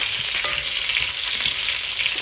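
Continuous sizzling and frying as creamy pesto pasta sauce with shrimp is stirred in a hot pan, steady and fairly loud, with no talking.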